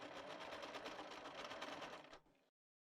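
A sewing machine runs side seams on a T-shirt, a quick, even stitching rhythm heard quietly and close for about two seconds before slowing and stopping, with no voices.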